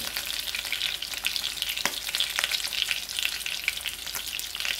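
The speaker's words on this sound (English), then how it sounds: "So we used about a cup of olive oil to fry." A pork chop fries in about a cup of hot olive oil, giving a dense, continuous sizzle with crackling pops and spatters throughout, loud and close with no talking.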